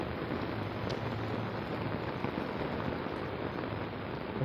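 Rain pouring steadily during a typhoon, a dense, even hiss of drops hitting surfaces nearby, continuous and fairly soft with no voices.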